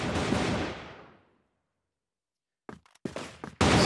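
Video game rifle fight: a burst of gunfire decays into silence, then several sharp shots crack nearby and a loud blast ends it.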